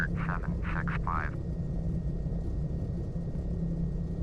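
Piper PA-34 Seneca V twin-engine aircraft in Flight Simulator X taking off into the wind from runway 12, a steady loud engine drone throughout, with a brief tonal chime or voice-like sounds near the start.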